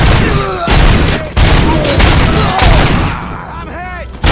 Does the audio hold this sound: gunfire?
yes